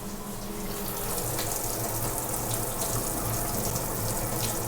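A kitchen tap runs steadily at full flow to get the water ice cold, a loud continuous gush filling the whole stretch with no talking.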